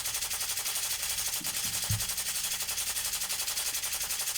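A blacksmith hammers hot steel to draw it into length while forging front axles for wagons, a steady, fast, evenly spaced pounding that continues throughout at moderate loudness.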